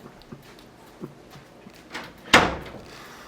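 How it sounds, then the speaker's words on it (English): A bathroom door swings shut with a single loud thud and a short ringing decay, following a few faint knocks and shuffles in a quiet room. "Keith, close the door to the bathroom"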